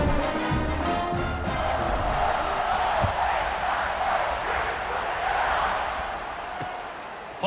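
Crowd cheering after a touchdown in the College Football 26 video game, a broad steady roar that holds for several seconds and fades slightly near the end.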